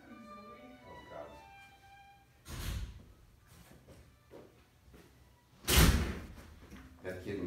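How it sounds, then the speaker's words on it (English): A door closes in a room with a couple of solid thuds, the louder one near the end, while people talk quietly around it. "Can you close the door?"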